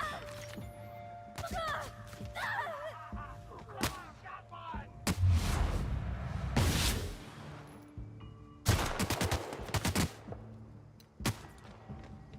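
Enemy gunfire during combat in The Outer Worlds, with repeated sharp shots and heavier bursts scattered across the stretch, some close and loud, mixed with game noise and speech.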